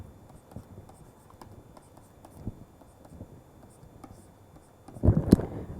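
Pen writing out an equation, light scratchy strokes ticking along irregularly, then a brief louder burst of scribbling near the end, close and fairly quiet.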